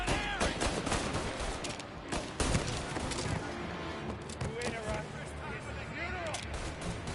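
Dense gunfire from a shootout in Mafia Definitive Edition, rapid shots and bursts packed together nonstop over busy game sound, with voices calling out in between.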